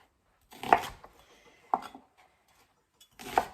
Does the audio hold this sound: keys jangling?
no